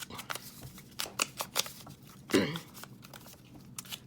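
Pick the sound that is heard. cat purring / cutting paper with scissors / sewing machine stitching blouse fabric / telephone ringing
cutting paper with scissors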